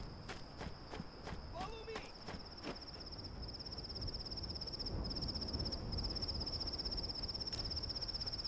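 A cricket chirps incessantly right up close in the Halo CE beta mod game, a sharp high steady trill that rings loudly throughout while footstep-like taps and background game sounds play beneath.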